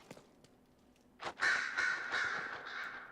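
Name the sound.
birds cawing in video game Dragon Age: Inquisition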